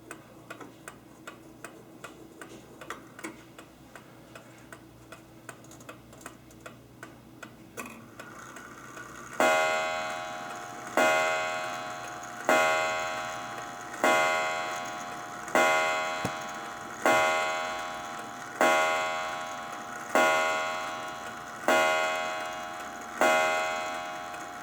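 An estate sale clock ticks quietly at first, then after being wound it sounds loud, ringing strikes roughly every two seconds, each one decaying before the next, close up with no talk.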